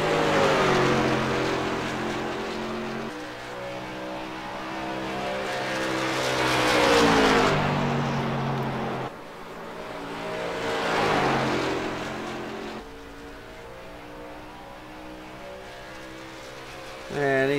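Late model race car engine at Iowa in a sim racing game, a loud roaring drone rising and falling through gear changes and corners, with a brief tire squeal and a commentator talking over it.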